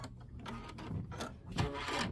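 An embroidery machine stitches a tack-down line on quilt fabric, a faint rapid mechanical chatter with uneven clicking pulses, close by and with no talking.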